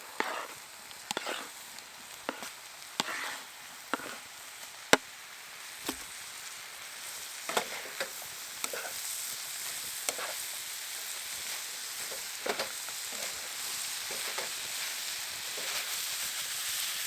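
Polish sausage sizzling in a pan at a windy campsite, a steady close hiss of frying with scattered crackles and light utensil taps, no voices.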